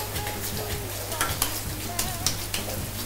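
Food frying in a pan gives a continuous close sizzle, broken by a few sharp clicks and scrapes from stirring, with no voices.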